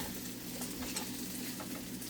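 Three eggs frying in a hot pan for breakfast poutine, a steady dense crackling sizzle close up with no voices over it.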